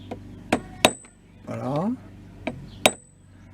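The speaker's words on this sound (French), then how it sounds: "j'ai pris un tournevis, un petit marteau et je viens frapper là sur les deux languettes" A small hammer strikes a screwdriver against the brush-holder tabs of an electric lawn mower motor, giving four sharp metallic taps spaced irregularly, close and loud, with a short bit of speech in the middle.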